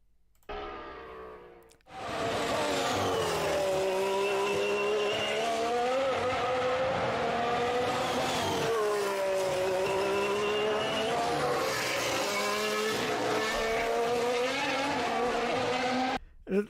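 A current Formula 1 race car engine is played back, opening with a brief low idle before revving hard into a sustained high-pitched whine that rises and falls through gear changes, loud and continuous until it cuts off.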